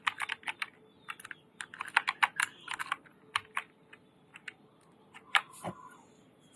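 Fingers type on a computer keyboard, entering the word "Allah" in a stylish font design. Close, crisp keystrokes come in quick bursts with short pauses and a heavier key press near the end, with no talking.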